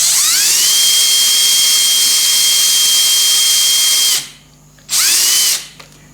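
A drill spins in a Bridgeport-type knee mill, a loud steady high-pitched whine for about four seconds, then a short pause and a second brief burst that winds down.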